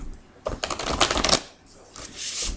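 Tarot cards are shuffled close up in quick riffling bursts, a dense flutter of papery clicks followed by a softer second shuffle.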